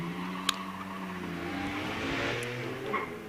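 A Reliant car launches hard off the start line at the Shelsley Walsh hill climb, its engine note climbing steadily with a sharp click at the start, loud and close with a faint background murmur.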